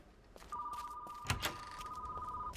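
Telephone in a shop in the horror video game Hellmart rings with a steady electronic bell tone lasting about two seconds, fairly faint, alongside a couple of soft thuds.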